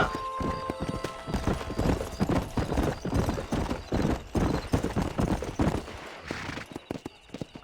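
A horse gallops in Red Dead Redemption, its hooves clip-clopping in a steady rapid rhythm close up, with occasional neighs and no talk over it.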